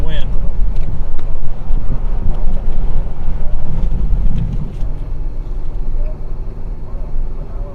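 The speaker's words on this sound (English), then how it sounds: "Here comes big wind." Strong wind gusts buffet the microphone during a Colorado tornado storm chase, loud continuous rumbling roar with a passing vehicle and a voice heard faintly beneath.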